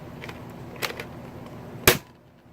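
Mattel Boomco toy dart blaster handled up close: a couple of soft plasticky priming clacks, then a single sharp, loud snap of the shot, with quiet room tone after.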